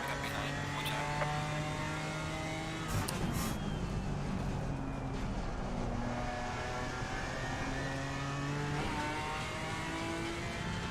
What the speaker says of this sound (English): Faster car coming up behind, watch out.